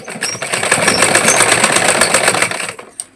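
A sewing machine runs continuously while stitching a six-panel cotton petticoat, a fast steady mechanical whir close up that stops abruptly with a final click.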